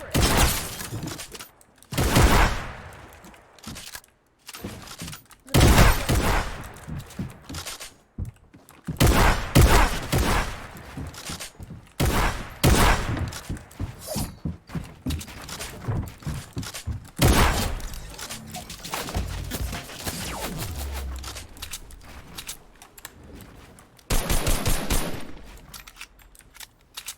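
Gunfire at a video game block party: rapid bursts of automatic fire and single loud shots crackling in dense, uneven volleys, with brief lulls, lasting throughout.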